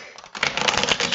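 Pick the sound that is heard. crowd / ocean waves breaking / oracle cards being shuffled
oracle cards being shuffled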